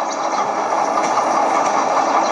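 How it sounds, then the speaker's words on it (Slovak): A freight train shunts along track 4 beside platform 2 of a railway station, giving a steady, fairly loud rumble of rolling wagons and engine noise with no distinct clanks standing out. "Pri nástupišti číslo 2, kolaj číslo 4, nákladný vlak robí posun."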